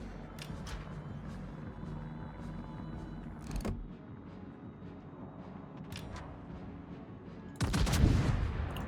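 Naval guns firing in World of Warships, with a heavy booming salvo near the end standing out over a low, steady ambient rumble and a few fainter earlier reports.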